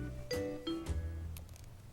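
A bicycle bell rings a couple of times in quick succession, bright metallic dings close by over a low background rumble, with no talking.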